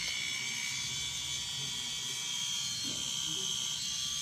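A handheld electric foot callus remover buzzes with a steady, high-pitched whine that runs unbroken at an even level, close by, with a little faint background speech.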